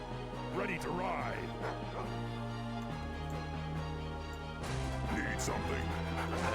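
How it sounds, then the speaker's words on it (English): A dog barks upstairs, muffled and distant, its yaps coming through under a steady hum of background noise and people talking nearby. "That dog losing their mind upstairs."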